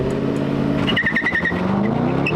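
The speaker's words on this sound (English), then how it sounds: "now we need to test the launch control" A 2024 Aston Martin DB12 Coupé launches hard on launch control with some wheel slip: a loud engine roar climbs in pitch, with tire chirps through the burst of acceleration, heard close and steady.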